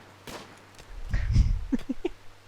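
Colonists out hunting in Rimworld fire a scattered series of faint, sharp gunshots over a low background rumble, with no talking.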